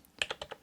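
Half a dozen muted key presses on a Red Dragon Shiva Pro 98 K515 RGB Pro membrane keyboard tap out in a fast, close, quiet burst with no voices.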